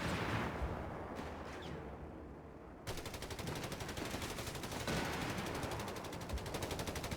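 Sustained, loud gunfire in the video game Company of Heroes 3 as units attack a building in an urban setting, rapid machine-gun bursts merging into a dense continuous rattle, with heavier blasts mixed in throughout.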